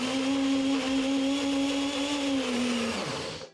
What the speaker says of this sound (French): Donc là, je vais mixer ma purée.